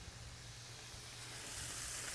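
Ground beef browning in a pan as half an onion goes in, giving a steady, close sizzling hiss that swells slightly louder toward the end, with a low hum beneath and no talking.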